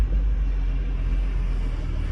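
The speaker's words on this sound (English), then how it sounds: "Traffic flying, y'all." Steady, loud low rumble of street traffic rushing past a car on a night drive through the Nicetown neighborhood, a continuous roar without any voices.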